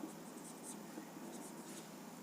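Chalk or marker scratches steadily across a board as a sentence is written, with faint, soft strokes continuing under a quiet room with some low voice nearby.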